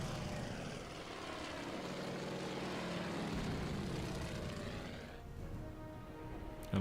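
Propeller engines of torpedo bombers drone steadily in a Pacific naval battle game over the Java Sea, a continuous loud roar that thins toward the end.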